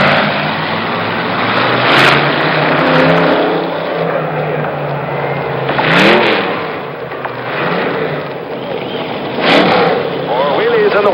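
A wheelie car driven by 37-year-old Evel Knievel (Robert Craig Knievel) at a Kings Island stunt show in 1975, its engine revving and surging in three bursts before a large grandstand crowd, with an announcer talking over it.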